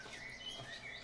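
Faint, high bird chirps and tweets drift over soft outdoor ambience in Denmark, a couple of short calls heard at a distance with no voices.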